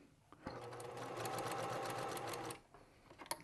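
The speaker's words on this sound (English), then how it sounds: "We're just going to stitch through there." A sewing machine stitches through the seams of a lined zipper pouch, running in one steady, close burst of about two seconds with a sharp start and stop, followed by small handling clicks.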